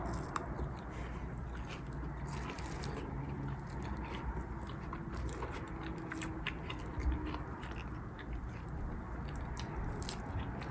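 Someone chews and bites through a quinoa and lentil dish up close, with continuous crunchy, wet mastication sounds and no talking.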